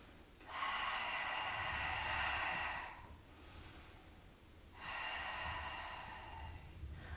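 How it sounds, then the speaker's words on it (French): Slow, audible breaths during a Pilates session on a large exercise ball, two long airy exhalations of about two seconds each separated by a quieter pause, close and alone with no talking. "Respiration."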